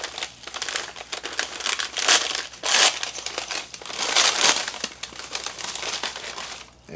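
Shredded wheat biscuits being handled and crushed, loud close crinkling and crunching in uneven bursts that swell and fade over several seconds.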